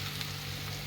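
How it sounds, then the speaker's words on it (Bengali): Mustard oil poured into a pan of mango pickle gives a brief, soft hiss and sizzle, steady and close, with no talking. "তো আমি এখন তেলটা এখানে ঢেলে দিচ্ছি।"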